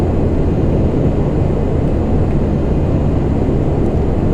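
A Lockheed TriStar jet engine windmills with fuel off, then spools back up. It makes a continuous loud, dense roar with a steady level throughout and no talk.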